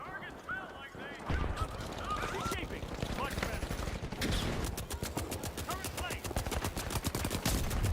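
Turret gunfire in The Outer Worlds 2: a rapid, steady stream of loud automatic shots fills most of the stretch, following earlier game sounds and effects.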